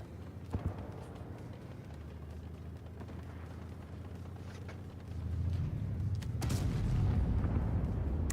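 Tank cannon fire in World of Tanks Blitz, a couple of sharp shots early over a steady engine rumble that swells louder toward the end, with a further burst of bangs around six and a half seconds, no speech.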